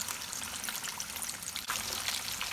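Whole marinated fish lowered into hot oil, which gives a dense, steady sizzle and crackle throughout, fairly quiet, with no talking.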